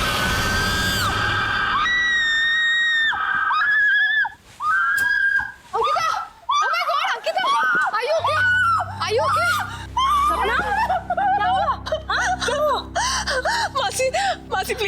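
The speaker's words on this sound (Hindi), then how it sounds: "क्यों चिल्लाई तुम?" A girl screams in fright in a horror episode, starting with long, high, sustained shrieks and moving into gasping, whimpering cries over a low rumbling musical score.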